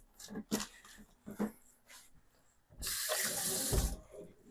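Tap water running into a sink while hands are wetted before shaping lentil cracker dough, a steady close splashing rush for about a second after a few soft knocks and rustles.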